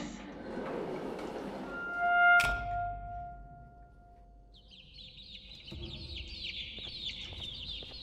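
The Opila bird from the game Garten of Ban Ban 2 lets out a sharp, loud cluck at the start. A long run of fainter, high chirping calls follows at a steady pace.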